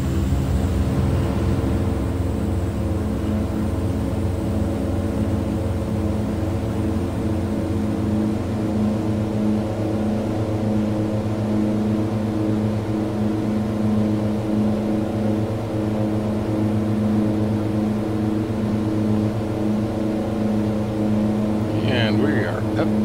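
A DHC-6-300 Twin Otter's twin turboprops drone steadily through a takeoff roll and climb in a flight simulator, a loud, even engine hum with strong tonal bands that holds without a break, and a voice talks over it.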